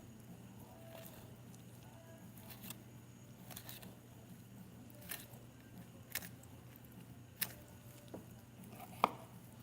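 A dull knife cutting into a lionfish, with soft, scattered slicing and scraping taps at irregular intervals over a steady low background hum, faint and close.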